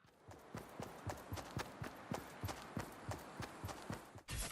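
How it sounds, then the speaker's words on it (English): Friendly footsteps in the Fortnite video game, a steady run of soft, evenly spaced thuds at moderate distance, fairly quiet and unobtrusive. "Oftentimes if you're playing with friends, you'll hear footsteps that sound like this."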